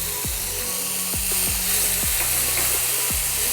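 Chopped capsicum frying in a pan for veg manchurian gives a steady, close sizzle, with a few sharp clinks from a stirring utensil scattered over it.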